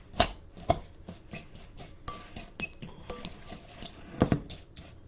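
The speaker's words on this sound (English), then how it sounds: "break up the brown sugar a little" Brown sugar being chopped and broken up in a kitchen, a series of sharp irregular clinks and taps of utensil on bowl, fairly quiet and close, with pauses between bursts.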